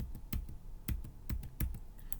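Keys clacking on a computer keyboard as sign-up details are entered, irregular sharp taps at close range, fairly quiet with no speech.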